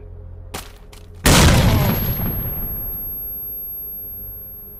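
Grenade explosions in the shooter game S.T.A.L.K.E.R.: Clear Sky: a couple of sharp pops, then one loud, close blast whose rumble slowly decays over several seconds, with a thin high ringing tone lingering afterward.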